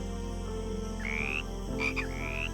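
A golden poison dart frog calls in a tropical rainforest, giving a few short rising chirps over a steady low background hum.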